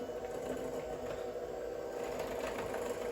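A hand mixer creams butter and sugar for chocolate chip cookies with a steady, even motor whir, continuous and fairly close, with no talk.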